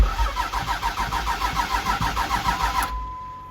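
Dodge dually with a 12-valve Cummins diesel engine, seized starter suspected, cranking on the starter in a steady fast rhythmic churn for about three seconds, then stopping abruptly without firing.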